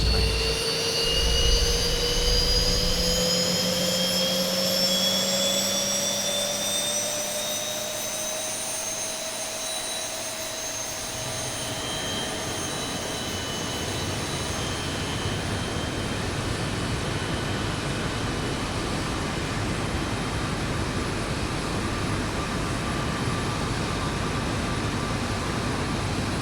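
Simulated jet engine spooling up during an X-Plane 11 airliner start, a rising turbine whine with climbing tones over a broad steady roar that settles into a constant loud rush, alone with no talk.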